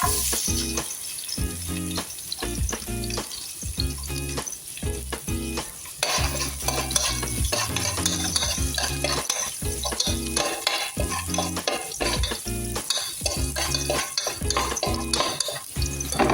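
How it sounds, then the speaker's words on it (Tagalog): Garlic sizzles and fries steadily in a hot pan while a utensil stirs and scrapes it, with occasional clinks of metal on the pan, at the start of cooking Filipino sinampalukan manok (chicken tamarind soup). "ang unang nilalagay, standard, we will put the garlic."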